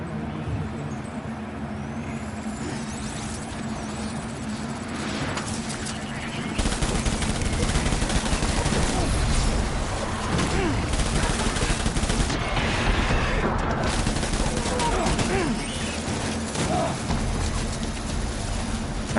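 Gunfire rattles in the video game Death Stranding over a dense, loud wash of rumbling game noise, with bursts of shots that intensify partway through and continue steadily while a voice talks intermittently.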